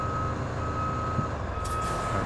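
A truck backing up gives off a steady train of reversing beeps over a low idling engine rumble, close and continuous, with a brief hiss near the end.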